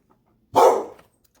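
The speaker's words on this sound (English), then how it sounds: "The neighbor's dog was barking." A neighbor's dog gives a single sharp bark at moderate distance, one short burst that ends abruptly into silence.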